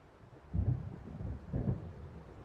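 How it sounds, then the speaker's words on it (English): Deep rolls of thunder from an approaching storm in the video game Alan Wake, two low rumbles about a second apart, fairly near, with no voices. "It seems there's a storm coming."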